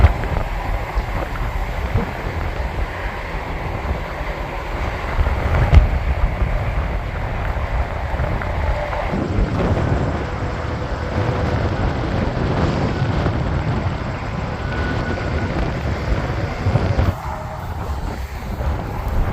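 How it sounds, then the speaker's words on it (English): Wind gusting steadily outdoors beside a truck stop in Indiana, a constant broadband rumble and buffeting against the microphone that holds for the whole stretch with no talk over it. "The wind is kind of blowing a tad"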